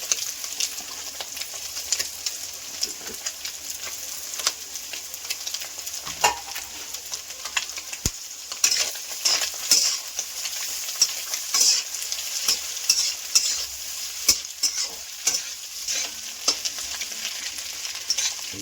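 A spatula stirs chicken fried rice with pre-boiled chicken in a frying pan over steady loud sizzling, scraping and clinking at close range in irregular strokes, with no talking.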